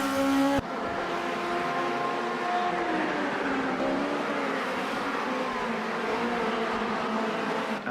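Formula Junior race cars at the Nürburgring GP circuit in the Automobilista 2 sim game, a continuous engine whine with shifting pitch as cars drive past, steady and moderately loud after an abrupt start, no voices.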